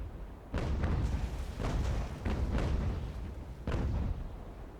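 Naval cannon fire from sailing warships in Ultimate Admiral: Age of Sail, heard as a run of heavy booming shots in uneven bursts, each with a rumbling tail, loud and without talk.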